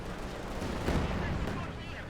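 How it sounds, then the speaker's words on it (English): Katyusha rocket artillery fires in a Company of Heroes 2 match, a dense, continuous roar of rapid launches and blasts. It sounds fairly faint and washed, and swells slightly mid-way. "Katyusha fire here."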